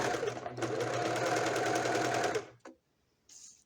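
A sewing machine stitches blanket fabric in one fast, continuous run, a close rattling whir that stops suddenly, followed by a brief click and a short mechanical hiss.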